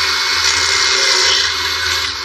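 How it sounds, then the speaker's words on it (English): A power drill bores steadily into the original metal hardware of a 1968 Pontiac GTO during custom fabrication, a loud continuous whine held close for a couple of seconds before easing off at the end. "start drilling into our original hardware"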